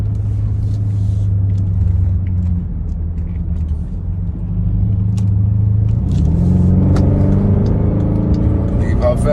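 A car engine pulling hard onto a highway, its deep rumble steady at first and then rising in pitch as it revs up. Loud and close, heard from inside the cabin.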